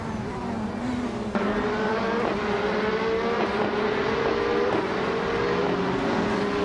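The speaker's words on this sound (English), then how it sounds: "Ovidus is driving a 2015 Onroc Ligier JSP3" A 2015 Ligier JSP3 race car engine in a racing video game drones loud and steady, its pitch climbing and shifting through gear changes in one continuous, close run, with no talking.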